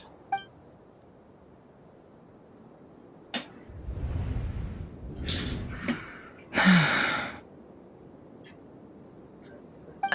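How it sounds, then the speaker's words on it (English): A Genshin Impact game character gasps once, a short breathy intake heard alone over quiet game ambience, followed by brief soft breath sounds and a brighter rustling burst. "I heard Yehuda gasp"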